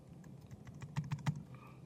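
Keys clatter on a computer keyboard as code is typed, a steady run of soft clicks that builds to a few louder, sharper strikes near the middle, close and alone without talk.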